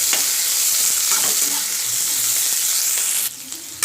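Sliced onions frying in oil for a Kannada pepper chicken recipe give a loud, dense sizzle with scraping stirs throughout, the hiss dropping suddenly near the end.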